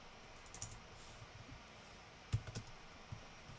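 Sparse keystrokes on a computer keyboard while coding in the Godot engine, a few faint scattered clicks with a small cluster of louder taps, close and quiet against a soft room hiss.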